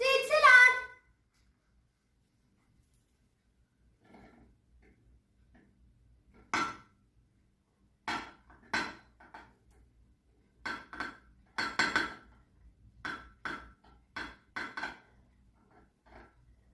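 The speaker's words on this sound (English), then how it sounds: "Let us mix the sweet salad." A coleslaw-style sweet salad of cucumber, pomegranate, carrot, apple and pepper being stirred in a bowl, a series of sharp, irregular clinks and scrapes of utensil against dish, clustered in quick bursts after a quiet pause.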